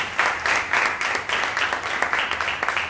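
A church congregation at a Sunday service in Benin claps in a steady, even rhythm, loud and close, with a few shouts mixed in.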